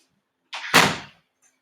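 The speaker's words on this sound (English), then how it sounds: "let me close this door." A door swings shut nearby with a brief scrape followed by a single solid thud that decays quickly, alone in an otherwise quiet room.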